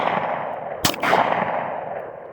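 A Smith and Wesson SW40VE .40 caliber pistol fires at a block of wood outdoors; two sharp loud shots in quick succession over steady background wind or rumble.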